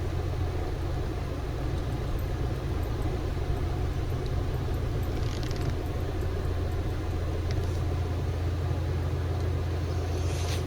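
Vehicle towing an RV trailer, driving slowly forward a short distance, a steady low engine and road drone heard from inside, constant and even with no talk.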